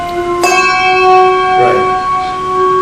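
Handbells struck one after another in a left, center, pass pattern during a handbell technique lesson, with a clear sharp onset near the start and a sustained, ringing bell tone that decays slowly, heard close up with no talking.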